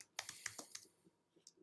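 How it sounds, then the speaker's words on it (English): Someone types on a computer keyboard in a quick flurry of close, crisp key clicks that slows to a few scattered taps. "trying to type without looking and call up the Crooked Dice website"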